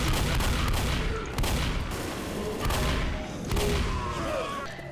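Rapid gunfire in the Left 4 Dead No Mercy campaign, dense loud bursts of shots and thumps pounding almost continuously through the whole stretch.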